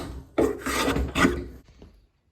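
A hand plane works along the edge of a wooden straightedge being trued flat, giving two loud rasping strokes followed by a fainter scrape and then silence.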